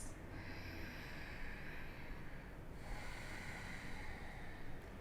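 Slow, deep breathing during a yoga stretch for stiff hips, soft and close with a long airy exhale, then a fresh inhale about halfway through.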